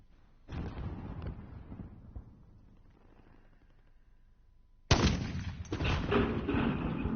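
Bursts of gunfire in the Call of Duty Warzone video game. A muffled volley is followed by quieter distant shots, then loud, close automatic fire erupts near the end.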